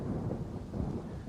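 Thunderstorm rumbling low and continuous, a dense wash of rain and rolling thunder with no distinct peaks and no voices.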